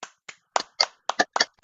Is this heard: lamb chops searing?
no